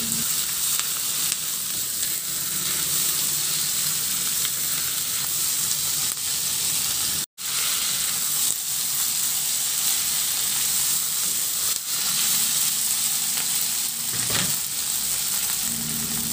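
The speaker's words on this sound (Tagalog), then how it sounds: "Ihalo lang din hanggang sa maluto lang din yung kamatis." Chopped tomatoes sizzle and fry in a pan with tofu and pork, a constant hiss broken by scraping stirs and one brief drop-out, with no talking.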